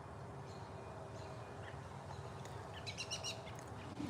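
Small birds chirp and tweet outdoors, faint and somewhat distant, in scattered short calls that cluster near the end over a steady low background hum, with no voices.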